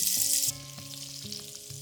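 Butter melting and sizzling in a hot pot while making chicken pot pie: a bright, loud hiss bursts out at first, then settles into a fainter steady crackle beneath background music.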